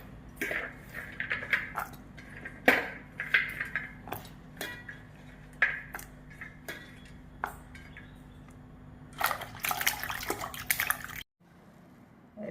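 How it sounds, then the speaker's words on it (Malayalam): Jackfruit seeds and drumsticks are washed in water, with irregular clatters, knocks and splashes of handling in a pot or bowl, and a busier burst of splashing near the end. "ചക്കക്കുരുവും മുരിങ്ങയ്ക്കായും നമുക്കൊന്ന് കഴുകി വൃത്തിയാക്കി എടുക്കാം."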